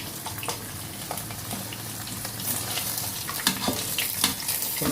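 Tofu and pork frying in a kawali, a continuous close sizzle and crackle with occasional sharper pops and stirring, no talking.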